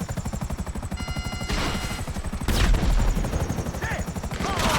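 Enemy gunfire in GTA Online rattles in rapid, closely spaced bursts, loud and near, with a rotor-like chop underneath and heavier blasts midway, continuous for several seconds without talking.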